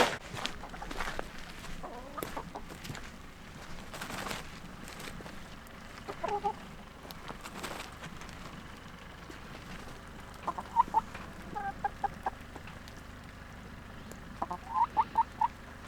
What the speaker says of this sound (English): Enough chicken!